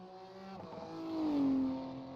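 Porsche race car engine in a racing sim endurance practice, a rising then falling whine as the car approaches and passes, swelling to a loud peak before fading.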